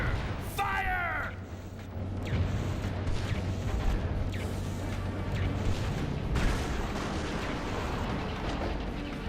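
A railgun fires in the video game Metal Wolf Chaos XD, a sustained roaring blast with a rumbling low end and mechanical whirring, loud and continuous against a noisy battle backdrop.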